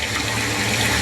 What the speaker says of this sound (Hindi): यहाँ सतत क्षिप्रा नदी की निर्मल धारा बहती है